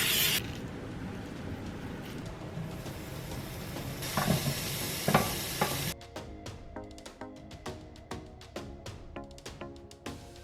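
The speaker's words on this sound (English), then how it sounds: "I have this indoor grill, so I'm going to make a burger patty and then roast my veggies on here" Burger patty sizzling on an indoor grill, a loud continuous frying hiss that cuts off abruptly midway, followed by quieter clinks and scraping taps.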